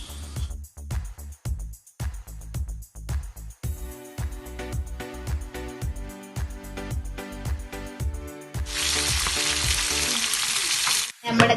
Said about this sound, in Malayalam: അപ്പം നമുക്ക് വറുത്തെടുക്കാം.